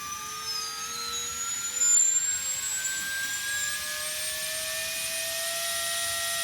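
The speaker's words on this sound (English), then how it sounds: "you're going to see the motor, it's going to start spinning. It's going to spin at maximum." A 2450 kV FPV drone motor runs at full throttle on a benchmark test stand, giving a steady high-pitched electric whine with rising harmonic tones and a constant whirring hum throughout, close and alone.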